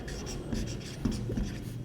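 Chalk scratching and tapping on a classroom board as a teacher writes during a physics lesson, a close, steady run of short scrapes and taps with no voice over it.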